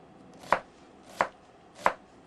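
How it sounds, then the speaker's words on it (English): A knife chops vegetables on a cutting board in a home kitchen, three evenly spaced sharp knocks, close and clear against quiet background, no one talking. "I continue with my chopping"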